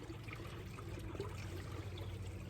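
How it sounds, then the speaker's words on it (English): Creek water flowing gently over a sandy bed outdoors, a soft continuous trickling wash with no talking, steady and fairly quiet. "there is the creek moving off into the distance over there"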